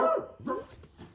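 A pet dog barks near a door: two or three sharp, close barks in quick succession, loud and alone with no talking.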